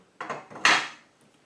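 A length of brass pipe is picked up and handled, giving a couple of quick metallic knocks and clinks, the second louder with a brief ringing tail.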